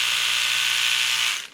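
A My Variation electric toothbrush hums with a steady high buzzing drone up close, running evenly and then cutting off at the end.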